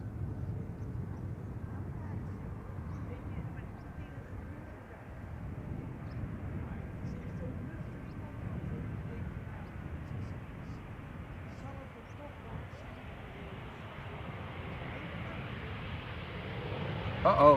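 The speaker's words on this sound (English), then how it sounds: "BA City Flyer arriving from London City" A British Airways CityFlyer airliner arriving at Amsterdam Schiphol from London City, its engine rumble steady and moderately distant throughout, with a voice talking over it.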